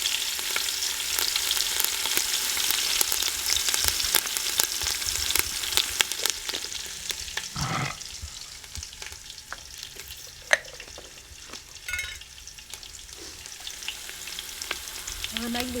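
Curry leaves and green chili pieces sizzle in hot frying oil, a bright continuous crackle with scattered pops and a few spoon scrapes, loud and close without any talk.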